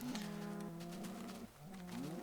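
Cows mooing in Minecraft, with long, tonal lowing calls that run almost continuously and are broken by a short gap before a new call rises. The sound is close and steady, with no talking.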